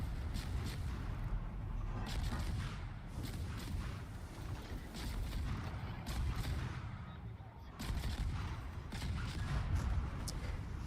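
American ship guns firing salvos in World of Warships naval combat, repeated heavy booming blasts at irregular intervals over a constant low rumble of battle noise.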